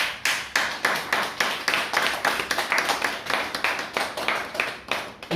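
A church congregation claps in a steady, fairly quick rhythm, a dense run of close, sharp hand claps lasting several seconds with no talking over it.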